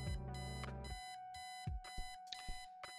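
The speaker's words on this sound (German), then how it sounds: "Erstmal Eileen's obnoxious alarm clock." Obnoxious alarm clock in the point-and-click game Kathy Rain rings alone in repeated electronic bursts of tones, with a low rumble beneath the first second, then a steady tone and jangling pulses.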